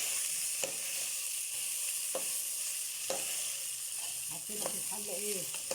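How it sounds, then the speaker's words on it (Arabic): Rice and vermicelli fry in oil and ghee in a pot, giving a steady sizzling hiss broken by scraping stirs and clinks of a spoon, with faint bits of voice near the end. "نحمر الرز مع الشعريه"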